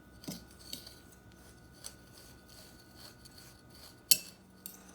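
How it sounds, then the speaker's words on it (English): Crushed vanilla wafers being stirred with a spoon in a bowl to moisten them for a cheesecake crust: faint scraping and rubbing, with a few sharper scrapes and clinks scattered across a quiet background. "Then we just go mix this around until it pretty much moistens all of those crushed up vanilla wafers."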